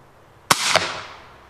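An Arrow Ranchero pistol fires both barrels together, giving one sharp, loud crack followed a quarter second later by a second pop. Both shots ring out close by and fade into a short echoing tail.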